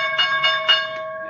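A stock market opening bell rings at the start of a live trading session, a steady sustained tone with a few louder rhythmic strikes pulsing through it, clear and prominent with no talking.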